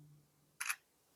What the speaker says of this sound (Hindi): तो एक पिक्चर में क्लिक कर लेता हूँ